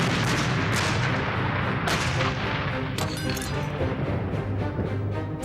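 Massed artillery barrage from over a thousand guns along the Alamein line, a dense continuous roar of overlapping booms and cracks, loud and unbroken throughout.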